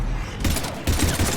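Rapid gunfire rattles in dense bursts during the attack on Earth in Mass Effect 3 Legendary Edition, loud and continuous over a rumbling battle backdrop.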